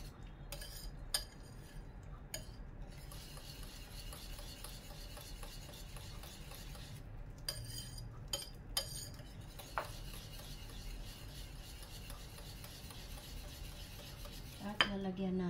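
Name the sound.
stirring broccoli with parmesan, cream and mozzarella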